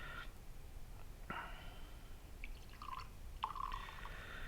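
Liquid poured from a freshly opened bottle into a glass in a quiet room, short splashy trickles in two or three brief bursts, close and fairly soft.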